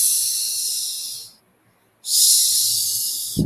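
A close voice mimics a snake with two sustained, sharp S hisses separated by a brief pause, the second running to the end with a faint thump at the close.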